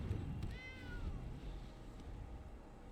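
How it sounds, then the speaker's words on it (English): A house cat gives a single drawn-out meow, moderately faint, over a low steady background rumble. "We have a cat."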